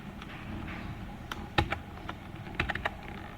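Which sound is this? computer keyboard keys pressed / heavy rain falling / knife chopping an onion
computer keyboard keys pressed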